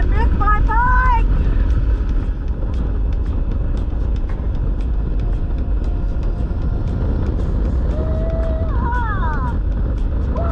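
Motorcycle riding on an open road in Australia just out of Mount Isa, with loud steady wind and engine roar filling the whole stretch and a rider's voice whooping and calling out over it.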